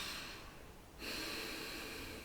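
A slow, soft breath drawn in and let out during a relaxation breathing exercise, faint and close, a steady airy hiss that dips briefly before swelling again, alone without talk.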